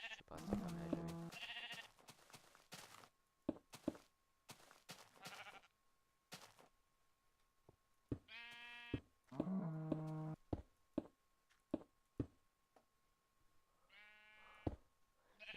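Minecraft sheep bleating in several short, harmonic calls spread across the stretch, fairly close and clear, with quiet gaps and faint background game noise between them.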